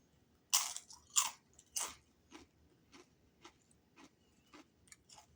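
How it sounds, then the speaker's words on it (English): Crisp bites and crunches of a Fuego Takis rolled tortilla chip: three loud, sharp crunches close up, followed by a run of softer, evenly spaced chewing crunches. "Okay, that one's more the crunch I was expecting."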